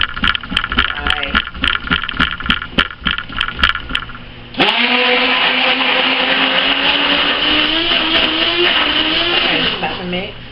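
Stick blender whirring in thick soap batter, first in short choppy pulses, then in one long steady buzzing run that shifts pitch as it works the mixture, with no talk.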